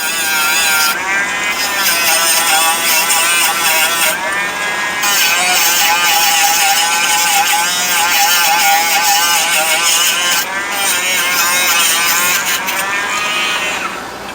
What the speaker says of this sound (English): I don't push down real hard with that Dremel tool, and it's on its lowest RPM setting, so it's just there for cleaning